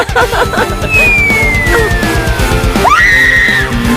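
A girl screams during a challenge, a loud, piercing, sustained cry that rises and falls over busy background noise, with a second shrill scream toward the end.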